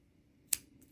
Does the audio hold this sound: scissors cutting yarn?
yes